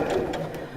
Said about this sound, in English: So I'll carry on sewing all around there